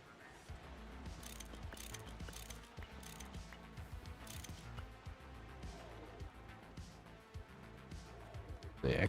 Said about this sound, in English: I have my wrench.